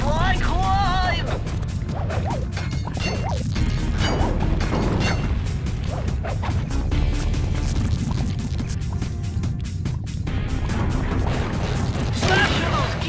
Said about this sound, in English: Smash in those gears with your cane!